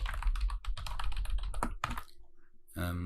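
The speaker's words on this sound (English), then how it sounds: "So I can type whatever I want here." Fast typing on a computer keyboard, dense clusters of close clicking keystrokes that pause briefly, then a final short burst near the end.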